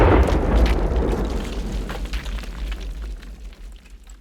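A deep explosion boom, loud and close at the start, with a rumbling low tail that slowly fades over several seconds.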